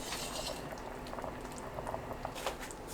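Samgyetang with marsh snails boils hard over high heat in an uncovered pot, a close, steady bubbling roll with small pops and splutters throughout.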